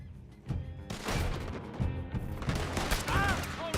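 Rapid gunfire rings out in a Red Dead Redemption 2 shootout, with loud overlapping shots in quick bursts following a quieter start. A few brief whistling tones rise near the end.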